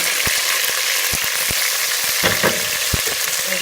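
Onion with tomato and green chili frying in a pan for a quick vegetarian dish, a steady close sizzle with sharp crackles and spits throughout, no voices.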